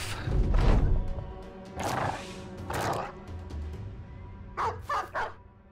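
A dog in the video game Battle Brothers gives a few barks and yips, a louder burst early on followed by shorter clustered barks near the end, with a low thud underneath.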